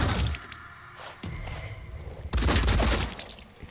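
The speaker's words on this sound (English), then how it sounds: "we have to shoot this thing point blank" Weapon fire in the tactical video game Phoenix Point, used point blank against a monster: a heavy burst of shots and booms, then a louder second volley, with no talking.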